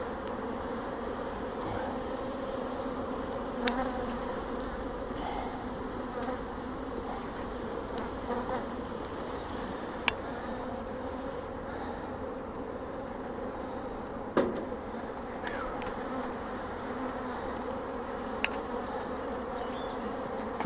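Honeybees in an opened, strong spring beehive hum in a steady, dense drone that runs the whole time, with a few faint clicks and knocks of hive frames.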